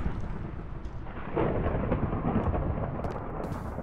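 Thunder from a lightning strike during a storm in Minecraft TerraFirmaCraft, a deep heavy rumble rolling on for several seconds with a slight swell partway through, no talking.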